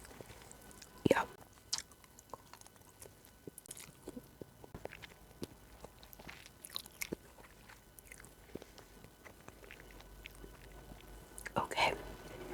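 Close, soft chewing and biting while eating in a quiet room, with sporadic crunchy bites and a louder crunch near the start and again near the end.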